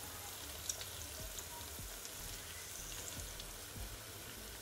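Honey poured over salmon pieces frying in a pan on medium heat, giving a steady soft sizzle with faint crackles and a few small pops, alone without talk.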